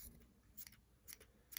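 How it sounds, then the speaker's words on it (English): Scissors snip at a yarn pom-pom, trimming it round for a crocheted hat: a few quick, faint cuts near the mic, spaced irregularly with quiet gaps between. "using my scissors, I'm just going to give my pom-pom"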